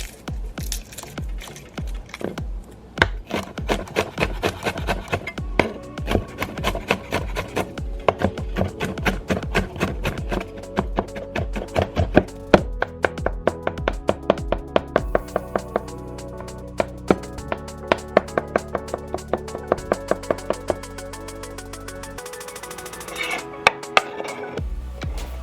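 A knife chops garlic on a wooden cutting board in a steady stream of rapid, close, crisp taps that keeps going for a long stretch with brief pauses, with no talking.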